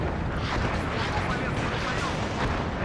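Incoming enemy mortar fire in the WARNO war game, a dense continuous roar of distant blasts and rumbling impacts filling the whole stretch, with a voice talking over it.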